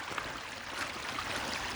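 Creek water on an Appalachian Trail climb rushing downhill from snowmelt, a steady, full hiss of flowing water close by with no breaks and no other sounds.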